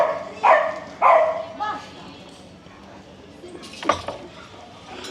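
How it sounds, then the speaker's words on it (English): Dogs barking and scuffling in a play fight at a casual coffee morning, with two sharp bark bursts early, scattered clattering and a brief yelp later, under a background of people talking. "It's called a dog fight."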